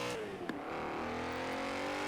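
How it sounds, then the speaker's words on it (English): A stock V8 sleeper car in Forza Horizon 4 revs hard and steadily, its engine note climbing with a brief blip near the start, loud and continuous with no voices. "It's also got a beefy V8 in it."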